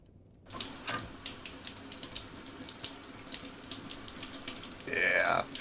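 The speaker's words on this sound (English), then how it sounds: "Yeah, shower time." Shower running in the game Stationeers, a steady close rush of spraying water after a brief quiet start, with a short louder burst near the end.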